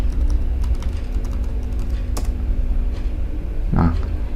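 Someone types a password on a computer keyboard during a Debian server update, with a steady run of quick, close key clicks over low background hum and a brief voice near the end.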